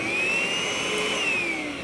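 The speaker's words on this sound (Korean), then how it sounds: "자, 진공청소기예요" A household vacuum cleaner runs steadily and close, a continuous whining motor drone with a slowly shifting pitch throughout, no voices over it.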